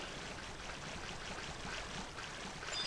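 River water flows in Final Fantasy XI as a soft, steady, faint rushing wash.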